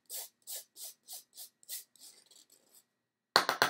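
Curdled milk plastic scraped off a surface with a teaspoon, six evenly spaced rasping strokes followed by softer scratchy rubbing, a short silence, then three quick sharp scrapes close up.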